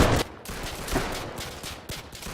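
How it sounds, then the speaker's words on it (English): Pistol gunshots in a video game: a rapid series of sharp, loud booming shots, about five in quick succession, alone without talk. "I love the sound of the pistol."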